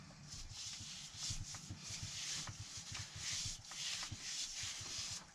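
Hands knead and rub a brown sugar mixture into pork for a whole-pig roast, giving a soft, steady, rhythmic scrubbing and squishing close up, with no talking.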